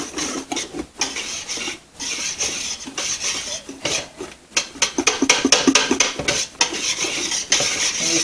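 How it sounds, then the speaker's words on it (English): Homemade laundry soap mixture being stirred in a pot, a steady scraping and clinking of a utensil against the container with rhythmic rubbing strokes, close and continuous, no talk. "So I'm just going to pour that in and start mixing that up."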